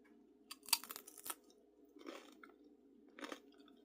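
Sourdough crackers with roasted red pepper hummus being eaten, close crisp crunching in three bursts, a sharp bite followed by quieter chewing crunches, in an otherwise quiet room.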